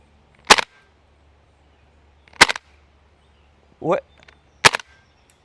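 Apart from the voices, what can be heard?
KWA F90 airsoft rifle firing shots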